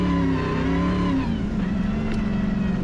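Optimus Dakar rally car's V8 engine revs loud and close, a steady throaty drone rising in pitch midway and holding strong, with no talk over it.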